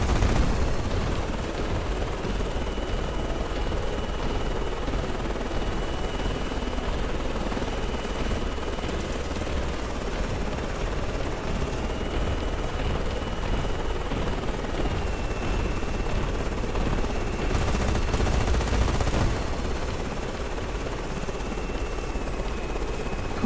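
Gun pods fire in a video game about an aircraft carrier, making a continuous, dense rattling roar of rapid fire that blends with a steady engine-like drone. The sound holds loud and unbroken for over twenty seconds, swelling briefly near the end.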